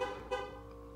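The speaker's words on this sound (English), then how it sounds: "Thanks for honking your horn." A single car horn toots once, briefly and at moderate distance, with a bright tonal blare that fades quickly.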